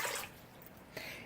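Water being poured into a bowl as the first step for homemade white bread, a faint splashing pour with a brief stronger gush near the end, close and quiet with no talk.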